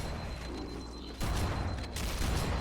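Shotgun and assault rifle fire in the video game Halo: Combat Evolved Anniversary, a dense rattle of gunfire with a sharp louder burst midway and continued shots after.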